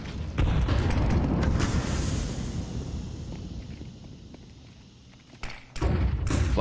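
A flashbang going off in Counter-Strike during a Major tournament match: a loud, booming burst with a sustained high ringing, fading over several seconds before another heavy thump near the end.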